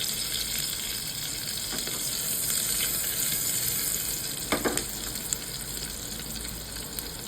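Chopped green chillies stir-fried in a pan for moong dal, giving a steady close sizzle throughout with a few brief scraping taps from the stirring spoon.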